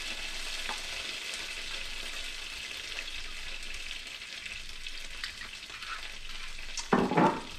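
Beef sizzling and frying in hot oil in a pan for keto crispy chilli beef, a steady continuous crackle with a brief louder burst of spitting near the end, no talking.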